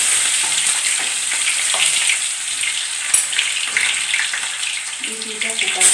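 Chopped onions and panch phoron spices frying in a pan for an Assamese jackfruit curry, with a loud, close sizzle and light stirring throughout.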